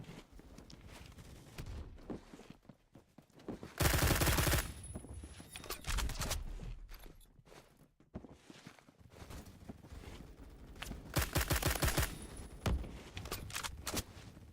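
DMR rifle fire in the Phantom Forces game, with sharp loud single shots and quick follow-ups spaced irregularly, a couple of heavy bursts standing out amid background game noise and footsteps.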